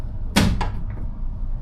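Back door of a Ford Transit 350 Extended van with a bent lock being worked, giving a sharp metallic clunk followed by a softer second knock, then quiet.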